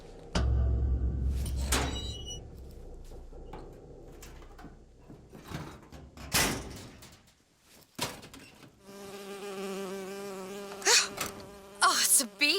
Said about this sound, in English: Oh, it's a bee.